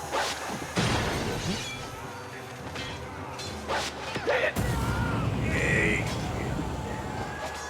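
Heavy mace blows land in a staged battle scene from a Mahabharat television drama, a run of loud crashing impacts and whooshing swings, with voices heard between the strikes.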